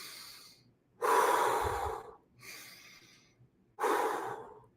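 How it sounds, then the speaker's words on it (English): Slow deep breathing for an exercise, alternating inhales through the nose and exhales through the mouth, four long close breaths with brief pauses between them. "notice I breathe in with my nose, out with my mouth, in with my nose, out with my mouth"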